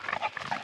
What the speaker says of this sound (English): And here is our neighbor's dog.